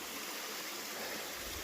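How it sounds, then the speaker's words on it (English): An impassable waterfall in a canyon gives off a steady, broad rushing hiss of falling water, constant and fairly loud with no break. "we got an impassable waterfall up there"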